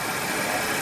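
A 2020 Honda Accord engine idles steadily at close range during an oil change, giving a continuous even hum with no talk.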